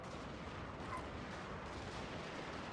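Naval bombardment artillery in a strategy video game, a continuous dense roar of distant heavy gunfire and blasts with no clear gaps and no talking.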